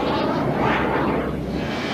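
Fighter jets launching from American aircraft carriers fill the air with a steady, loud broadband jet roar that holds at near-constant intensity without pause.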